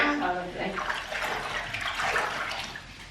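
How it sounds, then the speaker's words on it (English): Bath water sloshing and splashing in a tub full of bubbles at home, close and continuous with brief swells over a few seconds, a voice faintly mixed in. "Zoe's currently in the bath"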